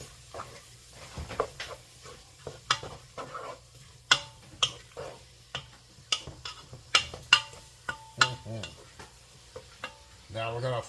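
A spoon stirring tomatoes for pomodoro sauce in a pot, irregular scraping knocks and clicks against the pot over a faint simmering sizzle, with no voices.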